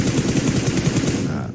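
Rapid automatic gunfire in PUBG Mobile during a PMSL CSA Fall 2025 esports group-stage match, loud bursts repeating in a quick rhythm before tapering off at the end.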